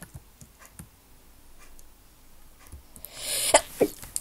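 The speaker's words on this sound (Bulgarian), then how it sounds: "Ще кихна." A single sharp sneeze bursts out near the end of a quiet stretch, close and loud, after a few soft ticking taps from a sick person.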